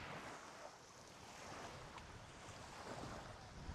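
Sea waves break continuously on a beach near a coastal village in Jaffna. The surf makes a steady, full wash mixed with wind rumble against the microphone, and no voices are heard.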